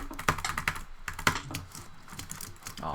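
Fast mouse clicking, jitter or butterfly style, during a Hypixel Bridge duel in Minecraft. Close, crisp clicks come in quick irregular flurries with brief gaps, at a fairly faint level.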